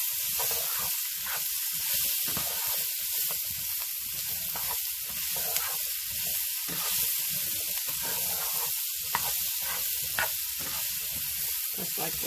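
Pork and onions stir-frying in a pan with garlic powder, alongside asparagus and peppers in a Chinese-style dish; a steady, loud sizzle runs throughout, broken by soft scraping stirs and occasional pops, with no talking.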